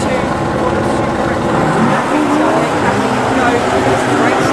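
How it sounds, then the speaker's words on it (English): A V8-powered Triumph race car blasts off the line at a 2WD rallycross start at Lydden Hill, its engine roaring loud and rising among other cars, under excited commentary. "The V8 powered Triumph comes blasting away down into top spot ahead of Pat Duran."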